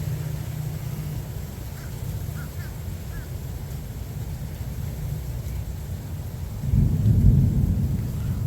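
Thunder from a nearby lightning storm rumbles low and steady through the whole stretch, swelling into a louder roll near the end, with faint scattered sounds above it.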